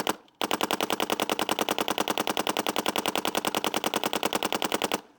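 A MacDev GTX paintball marker fires a long, rapid, evenly spaced burst of shots at a sign, lasting about four and a half seconds, loud and close.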